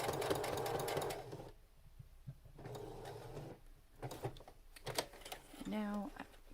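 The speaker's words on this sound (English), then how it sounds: "you're just kind of gently helping the fabric into the machine so that it's not stretching" A sewing machine top stitches a pocket on a pullover in quick, rhythmic bursts of mechanical whirring, with pauses between runs of stitching and quiet handling noises, and a voice speaks in between.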